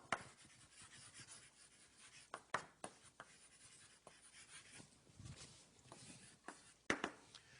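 Chalk or marker writing on a lecture-hall board for a circuits and electronics class, a steady scratchy rubbing broken by sharp taps as strokes begin and end, close and clear with no voice.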